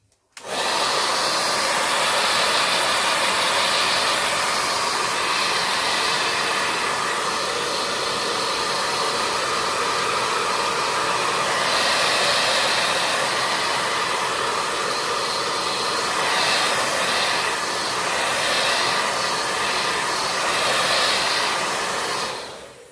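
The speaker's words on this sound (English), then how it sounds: "So I will use my heat tool again" A heat tool blows a loud, steady hiss of hot air over wet paint on a doll-decorated journal cover, running unbroken for over twenty seconds with no voices.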